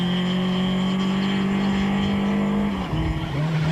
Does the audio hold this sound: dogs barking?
no